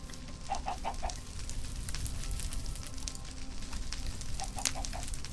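A Minecraft chicken gives short bursts of clucks at the start and end, heard over a continuous crackle of open flames.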